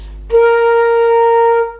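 A single sustained flute note, a B flat, rings clear and steady for over a second before stopping, played alone.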